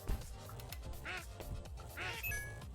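Duck quacking in the indie video game Shmubedi Boo, a few short, nasal quacks spaced about a second apart over soft game background sounds.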